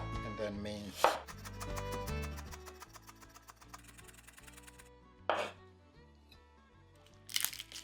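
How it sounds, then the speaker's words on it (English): A knife thinly slices and then minces ginger on a cutting board, giving a rapid series of crisp, close chops with a few louder cuts mixed in and no talking. "Thinly slice and then mince."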